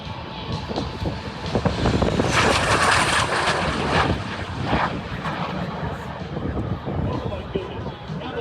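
A T-33 two-seat jet trainer flies past at EAA AirVenture 2025, its roar building to a loud peak and then fading. Crowd voices murmur underneath.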